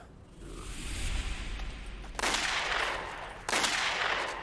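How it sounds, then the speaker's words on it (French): Gunshots in a dramatic scene, two sharp, loud blasts about a second apart, each with a long echoing tail, following a rising rushing swell. "C'est là qu'on tire sur le type."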